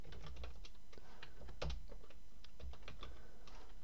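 Rapid, uneven clicking of a computer keyboard as code is typed, steady and fairly close, with a few louder key strikes mixed among lighter taps and no speech.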